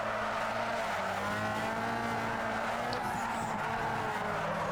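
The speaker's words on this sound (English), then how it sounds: "Make that engine scream." Race car engine screaming at high revs in Need for Speed Underground 2, a steady loud drone with shifting pitch and tire squeal running throughout, no talking.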